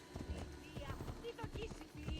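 Horse hooves clip-clop in a rapid, rhythmic gallop in Assassin's Creed, low in the mix beneath someone talking over the game.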